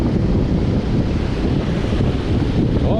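Ocean waves break at the shore where someone is fishing, a continuous loud roar of surf and rushing water mixed with heavy wind buffeting the microphone.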